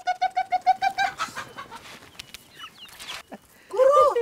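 On a Kenyan farm, chickens call out in a rapid run of rhythmic, pulsing notes, then give scattered clucks over background noise. A person starts talking near the end.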